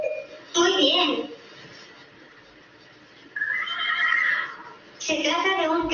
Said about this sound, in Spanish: Se trata de un caballo relinchando.